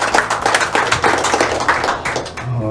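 Audience clapping welcomes a speaker at the opening ceremony of the Federal Cup 2024, a steady dense burst of many hands from a nearby crowd lasting throughout, with no voices over it.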